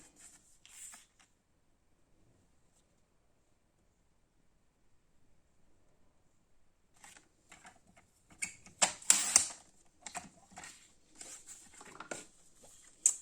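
Material cut to size for a handmade box, heard as scraping, rasping cuts in quick irregular strokes after a long near-silent pause, close and moderately loud.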